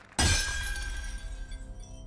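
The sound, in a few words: mask shattering in the video game Library of Ruina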